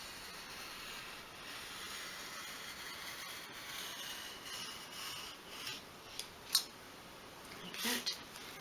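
A craft blade drawn along a ruler, cutting down a grout line through a 1/12th scale model brick sheet, makes a faint, steady scraping hiss with a few sharper scratches near the end.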